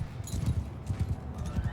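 Horses gallop in a Mount & Blade II Bannerlord battle, a quick rhythmic run of hoof thuds close by, steady and unbroken with no voices.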